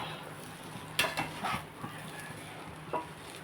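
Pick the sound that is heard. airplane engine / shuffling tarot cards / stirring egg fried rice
stirring egg fried rice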